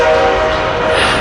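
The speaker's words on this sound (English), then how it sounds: "comes the train." A loud, steady train horn blares close by without a break, over a dense rumble of rail noise, with no voices.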